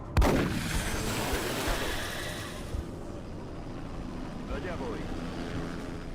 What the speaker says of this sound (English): Cross-map shotgun snipe!